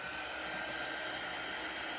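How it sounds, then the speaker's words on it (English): An embossing heat tool blows hot air to dry chalk paste, a steady, even whoosh of fan noise that runs unbroken for a couple of seconds, fairly faint and alone. "So I'm going to dry this with my heat tool for a moment."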